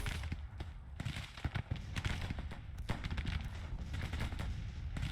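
Artillery and musket fire crackles across a battlefield in the strategy game Grand Tactician, a dense, distant stream of overlapping pops and thumps with no talk.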